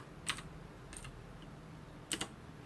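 Sparse, faint keystrokes on a computer keyboard during character rigging work in After Effects: a few separate clicks and a quick double tap, including a press of the Enter key, in an otherwise quiet room.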